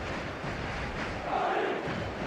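A stadium crowd at an eFootball match roars in a dense, continuous wash of cheering and chanting, with a faint voice under the noise.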